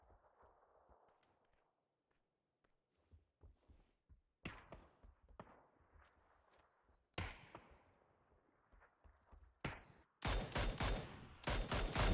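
Gunfire in a competitive shooter game: scattered sharp distant shots with echoing tails build into rapid, loud bursts of close automatic fire at the end, with footsteps between.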